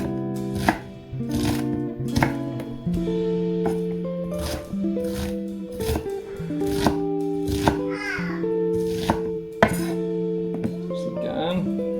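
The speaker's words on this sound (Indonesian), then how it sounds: "Kemudian bawang bombaynya, kita juga cincang bawang bombay" Onion being chopped with a knife on a board for spaghetti bolognese sauce, a run of sharp evenly spaced knife knocks, close and clear, over a steady musical bed.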